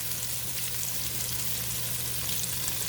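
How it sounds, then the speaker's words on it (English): Meatballs browning in a pan, a steady, close sizzle and crackle of frying fat with no pauses and no talking. "I'm browning the meatballs"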